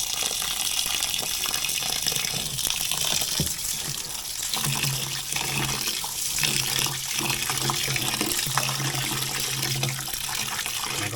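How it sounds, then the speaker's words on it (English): Rice being rinsed under water running from a tap in a Jamaican outdoor cooking setting, a steady close gush of water with splashing and churning as the grains are swirled, continuous throughout with no talk. "I'm gonna wash off the color out of the rice"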